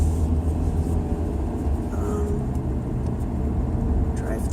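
A car on its way to a post office drive-through gives a steady, loud low rumble of engine and road noise from inside the cabin, continuous throughout, with no clear speech.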